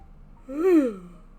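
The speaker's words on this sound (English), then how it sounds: "Oh my goodness, yawn" A single drawn-out yawn rising and falling in pitch, close and fairly loud, with a breathy voiced swell lasting about half a second before trailing off into a quiet room.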